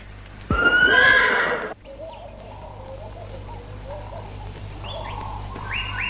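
A horse on a farm lets out one loud, close whinny lasting about a second, then birds chirp and coo quietly in the open air.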